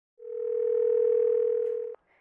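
A steady telephone dial tone holds for nearly two seconds, clear and unbroken, then cuts off sharply with a faint click afterward.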